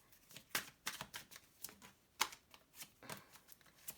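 Tarot cards shuffled by hand, a quick irregular run of soft slaps and riffles, close but faint, with no voice over it.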